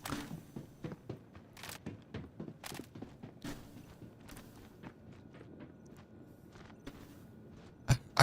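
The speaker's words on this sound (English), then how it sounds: "I heard the footsteps." Character footsteps in the video game Star Citizen, a series of soft irregular thudding steps, fairly quiet and close, with a louder thump at the end.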